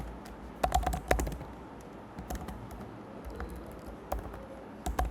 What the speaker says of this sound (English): Every time I type the spelling of include as something different.